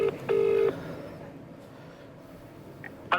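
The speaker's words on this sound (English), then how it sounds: "So let's give him a phone and see if he'll speak to us." A telephone number is keyed in, giving a quick series of steady electronic dialing tones at the start followed by a quiet line with faint background noise and a brief tone near the end.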